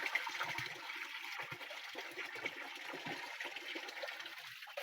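Cold spring water pours steadily from a bamboo spout into a pool outdoors, a continuous splashing rush with no pauses, moderately loud and close, no talking.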